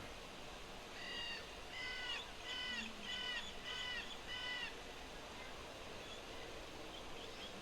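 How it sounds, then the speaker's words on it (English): Crows caw in the Lost Odyssey game on Elegy Island, six harsh evenly spaced calls at moderate distance over a steady ambient background, with no voices. "someone should do something about the birds"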